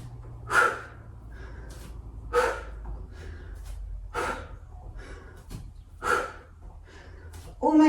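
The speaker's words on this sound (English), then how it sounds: "Nice noisy exhales" Loud, noisy exhales during a fast yoga HIIT workout, about five forceful breath bursts spaced roughly every two seconds, close to the mic over a low steady hum.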